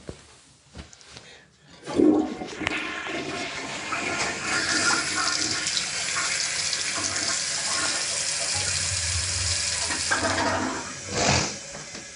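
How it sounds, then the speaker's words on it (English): A household toilet flushes with a rush of water that swells and holds, then tapers into refilling, following a few faint bumps and movements. "Y'all had to hear me finish peeing, flush the toilet."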